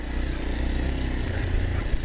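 A Kawasaki KLX230 motorcycle engine brakes in second gear on a ride in Bali, giving a steady, loud, close-up thrumming drone with clattery mechanical texture and no voices.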